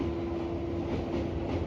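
The Vibhuti Express rolls over the new Ganga rail bridge with a steady, loud rumble of wheels and coaches, carrying a constant tonal hum and no break in the noise.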